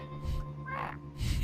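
A loud, harsh croaking squawk made by a human voice imitating a dying bird, one rasping call with a brief rough burst after it, close and alone.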